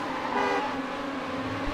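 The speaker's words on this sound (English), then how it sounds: "He's trying to honk the leaders out." Car horn honking in a rally racing video game, a steady sustained tone over continuous engine and road noise, fairly loud and close.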